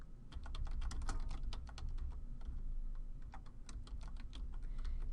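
Someone types on a computer keyboard, entering a high school name on an application form: rapid, close, steady keystrokes with a few brief pauses, no talking.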